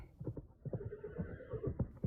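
Horses whinny and snort again and again, close at hand and moderately loud, as a group of four riders arrive at an inn and dismount, with faint hoof movement mixed in.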